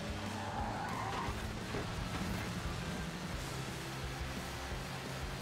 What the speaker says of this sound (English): Ford Escort RS rally car.